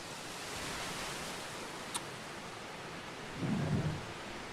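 A thunderstorm with a steady broad wash of rain noise throughout, a sharp crack near the middle and a low rumble of thunder toward the end, faint and distant with no voices.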